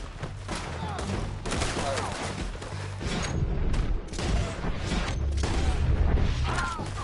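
Dense gunfire from a Red Dead Redemption 2 gunfight rattles in rapid, overlapping volleys. Booming shots come near and far without letup, while voices shout over the shooting.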